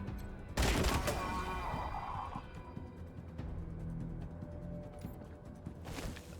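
Gunfire from the Wasteland 3 video game opens with a loud burst of shots, followed by scattered cracks and rattling, fairly close, with no talking.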